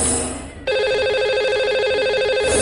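A telephone ringtone for a live TV call-in show connecting a lucky caller, a loud, steady electronic ring with strong harmonic tones that starts abruptly after a brief quiet lead-in and continues to the end.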